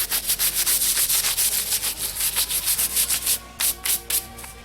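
A brush scrubs dust and sanding residue off clogged sandpaper during fiberglass speaker pod work, giving a steady run of quick rasping strokes, close and even, with no talk.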